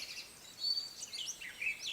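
Birds sing outdoors, faint high chirps and warbling trills drifting over soft background hiss, with no talking.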